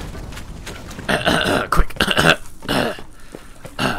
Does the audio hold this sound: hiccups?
yes